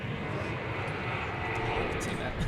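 A Starlux airliner on final approach into Seattle-Tacoma airport, a steady broadband engine roar that holds fairly loud throughout, with a faint voice in the background.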